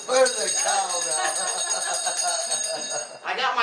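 Loud, steady metallic bell ringing that carries on without a break for several seconds, beneath someone speaking, then briefly drops away before picking back up near the end.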